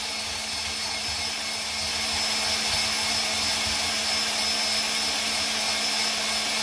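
A vintage KitchenAid coffee grinder attachment runs at maximum speed 10 grinding coffee beans, a steady loud motor whine with a constant drone, growing slightly louder partway through.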